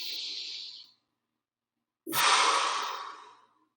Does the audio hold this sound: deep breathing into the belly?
yes